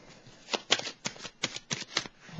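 Playing cards are shuffled and drawn in a quick series of crisp, riffling bursts close by, with short pauses between, quiet and without voices.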